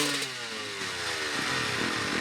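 Motorcycles rev hard at a snowmobile-club motorcycle hill climb at the Ojibwa Casino, a loud buzzing engine climbing and falling in pitch with a rough mid-range rasp, no voices.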